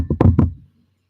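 Three quick knocks on wood, close and crisp, in a brief even rhythm with nothing else around them.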